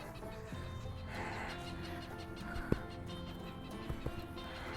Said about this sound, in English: There's my mama hawk.